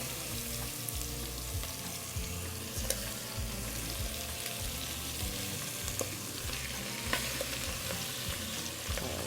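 Chicken pieces fry skin side down in a pan, giving a steady close sizzle with crackling spits and pops that runs unbroken throughout.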